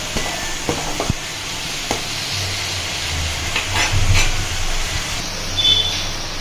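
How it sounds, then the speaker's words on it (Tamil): Onions sautéing in a pan with salt for a chicken gravy, a continuous sizzle and hiss with a few clinks of stirring near the start and occasional louder surges. "வெங்காயம் பார்த்தீங்கன்னா ஒரு பாதி அளவுக்கு வெந்து வரட்டும்"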